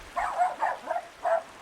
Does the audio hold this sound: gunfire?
no